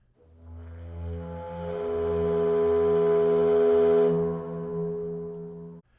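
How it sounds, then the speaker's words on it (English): A huge sub-bass recorder sustains a low, heavy, foghorn-like drone with strong harmonics, swelling in loudness through the middle and cutting off abruptly after about six seconds, with no voices. "she had bought this absolute monstrous sub-bass recorder"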